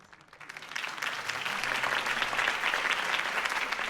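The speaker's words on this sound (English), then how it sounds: "If only Mr. Wayne, my campaign's largest backer, could have heard that applause" Crowd applause at a political campaign speech in the Batman Telltale Series video game. The clapping rises from quiet to a full, steady roar and holds for several seconds, with no voices over it.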